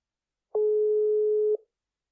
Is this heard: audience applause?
no